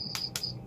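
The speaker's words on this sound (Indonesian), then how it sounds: "Iya, jangkrik kok keren." Crickets in a rural village setting give two quick shrill chirps over a steady high insect trill, close and clear with nothing else audible.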